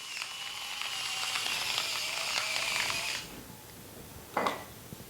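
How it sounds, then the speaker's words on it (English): Close, steady gritty grinding of a pepper mill over a buttered pan for about three seconds, then a pause and one brief light shake of salt. "Now, I'm gonna add salt and pepper."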